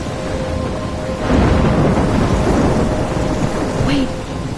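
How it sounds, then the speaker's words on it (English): Thunderstorm in the video game Life is Strange: heavy rain pours down steadily while a deep roll of thunder swells and rumbles for several seconds, loud and enveloping. "I'm trapped in a storm?"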